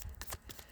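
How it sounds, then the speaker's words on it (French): Tarot cards are handled and flipped over with soft, close rustling and sliding, a short continuous flurry of card noise. "je vais essayer de mettre mes cartes à l'endroit"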